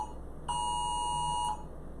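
A US emergency alert test tone rings out from a phone, a single sustained beep lasting about a second, with fainter background noise on either side.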